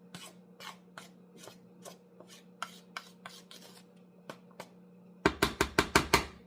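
A spoon stirs dry sugar cookie ingredients (flour, sugar, no salt) in a bowl, giving a run of soft scraping strokes that ends in a burst of louder, sharper rapid scrapes, with no talk.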